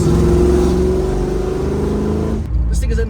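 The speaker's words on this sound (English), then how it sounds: "The motor's running for the first time in a little while, heads in cam, the thing sounds amazing" A Camaro V8 with new heads and cam runs loud and close, its deep rumbling idle rising into a revving roar before cutting off sharply near the end, with a voice talking over it.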